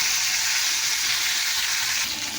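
Potatoes sizzle and fry steadily in hot oil seasoned with panch phoron and dried red chillies, a dense, continuous crackle held close and loud throughout.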